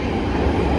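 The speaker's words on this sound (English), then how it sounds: "You can hear a Northern Line train going" London Underground Northern Line train running near Bank Station, heard from an interchange corridor as a loud, steady low rumble and roar close by, with no talking.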